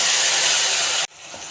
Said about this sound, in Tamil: நம்ம லெமன் இதில் ஊற்றிக்கலாம்.